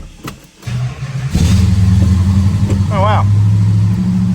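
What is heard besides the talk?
1969 Plymouth GTX 440 engine running and revving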